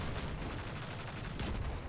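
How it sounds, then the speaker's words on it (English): Rapid gunfire from the video game Destiny 2 is aimed at bombs on a wall, producing a dense, continuous rattle of shots with a heavy low rumble that stays loud throughout. "We're going to start out by shooting these bombs on the wall."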